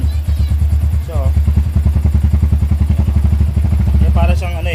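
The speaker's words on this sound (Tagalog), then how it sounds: "Dapat hindi siya nagsisiro. Ayun, nagbabackfire pa." A faulty motorcycle engine idles loud and close in a steady rapid putter, with sharp backfire-like pops breaking through near the start and end while people talk over it.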